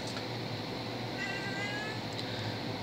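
A pet cat meows softly in a room, a brief faint call or two rising over a steady low background hum.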